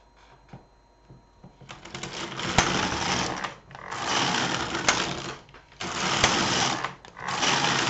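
A home knitting machine knits rows of a two-colour blanket. The carriage makes long, loud rasping passes back and forth, several sweeps separated by short gaps, with a few sharp clacks.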